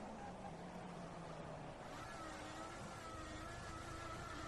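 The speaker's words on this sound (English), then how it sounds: "Bit of wheel spin out of there" An F1 car in F1 2014 spinning its wheels while accelerating out of a corner at Bahrain's night race, a steady high engine whine rising in pitch, continuous and moderately loud.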